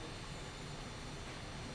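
Steady broadband jet roar from an Aermacchi MB-339 trainer in Microsoft Flight Simulator 2024, continuous and even throughout with no talk over it.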